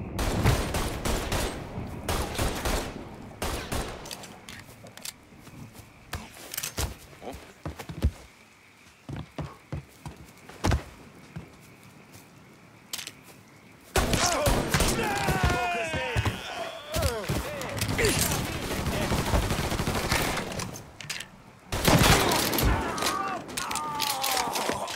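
Bursts of gunfire crack through a Mafia 3 firefight, scattered single shots early giving way to dense, sustained volleys and rapid automatic fire later, with voices shouting amid the shooting.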